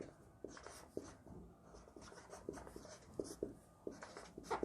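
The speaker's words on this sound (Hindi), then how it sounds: "तो मैं लिखता हूँ" Chalk or marker writing on a board during a polity lecture: a run of short scratchy strokes and taps in an irregular rhythm, close and fairly quiet, with no talk over it.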